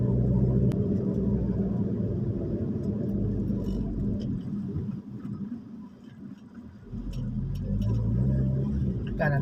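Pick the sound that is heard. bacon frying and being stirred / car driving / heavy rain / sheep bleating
car driving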